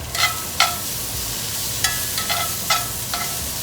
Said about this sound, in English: I can pop them in the same pan that I just cooked my steak in.